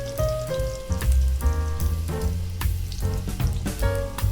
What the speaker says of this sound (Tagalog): painit lang po tayo ng mantika sa kawali at tayo po ay magigisa ng bawang at sibuyas